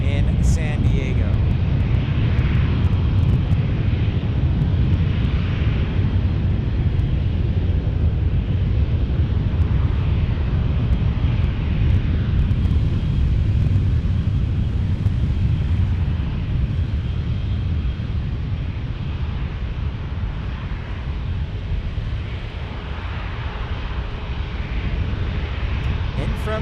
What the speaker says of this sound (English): Always an interesting landing in San Diego.